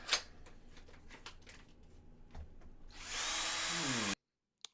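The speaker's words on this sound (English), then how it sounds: "He put a drill up to his head." A power drill in a Supergirl movie trailer, a loud sustained whirring whine about a second long following scattered clicks and thuds, cutting off sharply into silence.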